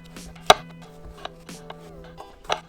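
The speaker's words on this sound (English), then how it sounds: "So I'm just cutting these mushrooms up." A knife chops through mushrooms on a cutting board while vegan greens like kale and spinach wait nearby; several separate sharp chops land in an uneven rhythm, close and fairly crisp over a low kitchen hum.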